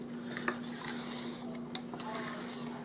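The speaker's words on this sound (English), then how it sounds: "we're just going to stir it until the sugar seems like it's dissolved" Spoon stirring sugar in a high-sided pot for banana pudding, soft scraping and light clinks at a steady pace, quiet and close with a faint hum underneath.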